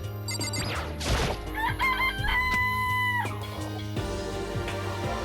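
A chicken in the video game Danganronpa clucks several times and then lets out a long, wavering crow over a continuous game music bed, moderately loud and close, with no talking.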